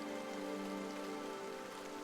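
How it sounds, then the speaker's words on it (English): Steady rain pours down in a video game world, a dense, even hiss of drops that holds without a break for a couple of seconds, with no voices over it. "The rain does not stop."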